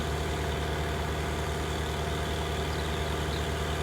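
A New Holland T8 435 tractor engine idles in Farming Simulator 19, a steady low diesel rumble that holds evenly throughout with no breaks and no talk.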